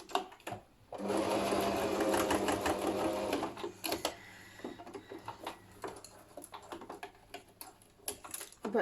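A sewing machine stitches a homemade facemask in a loud, steady whirring run lasting about three seconds. Softer, shorter bursts of stitching and handling clicks follow.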